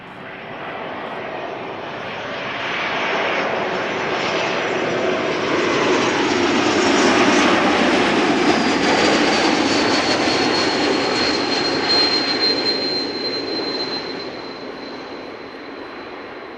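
An airliner lands at Amsterdam Schiphol Airport with a loud, sustained engine roar and rushing noise that builds, peaks mid-pass and then slowly fades, with a thin high whine toward the end.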